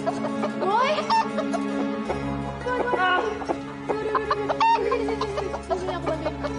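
A rooster clucks and squawks in agitated bursts over several seconds, loud and close, while background music plays and people talk around it.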